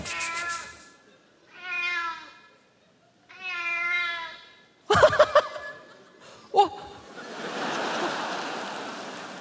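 A cat meows from inside a washing machine, three drawn-out muffled cries, followed by laughter, clattering bangs and a rushing hiss.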